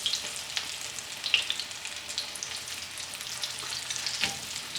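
Green tomato slices fry in a pan with a steady, close crackling sizzle and scattered pops, no voices.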